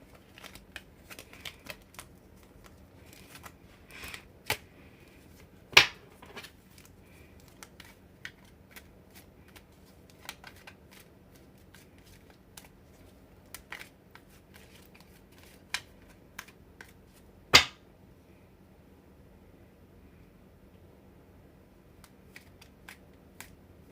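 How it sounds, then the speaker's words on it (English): Tarot cards being turned over during a reading, with sparse soft flicks and taps scattered over a quiet background, including a few sharper snaps, and no talking. "I'm just turning cards."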